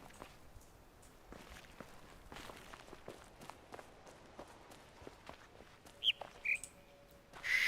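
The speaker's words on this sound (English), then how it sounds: "Shut up, bird." A bird in the puzzle video game The Witness gives a few short chirps near the end, over soft footsteps walking across the ground. The calls are brief, bright and fairly close, and no one talks.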